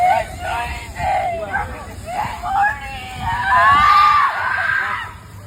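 A woman shrieks and wails in high-pitched bursts amid a crowd's hubbub, her cries rising louder toward the end over a noisy background.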